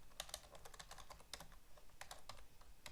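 Fingers typing Java code on a computer keyboard, a quiet run of irregular key clicks with short pauses, heard close and alone.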